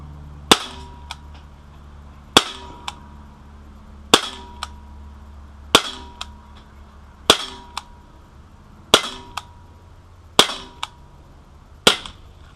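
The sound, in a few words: Sig Sauer P250 CO2 pellet pistol shots hitting target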